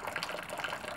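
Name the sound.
cold water pumping through wort chiller tube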